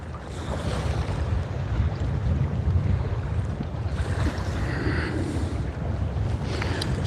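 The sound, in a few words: wind while kayak fishing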